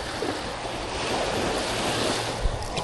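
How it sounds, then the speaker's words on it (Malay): Big sea waves surge and wash continuously around a small fishing boat on open water, with a loud, roaring wash and gusting wind buffeting the microphone. "Air ombak besar tu."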